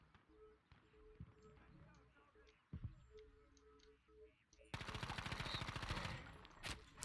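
Rapid gunfire from a sniper in a video game, with a dense burst of sharp shots in the second half, loud against quieter game sounds, with talk around it.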